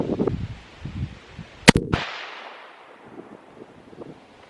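A single sharp rifle gunshot at an outdoor range during 1,000-yard prep, a loud crack followed by a fading echo rolling away, with wind noise and faint rustling before and after.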